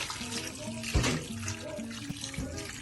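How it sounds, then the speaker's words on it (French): Water runs steadily from a tap while filling a pot for chicken broth soup, a continuous splashing flow with a few louder gurgles, near and with no voices. "je vais aller mettre un peu d'eau"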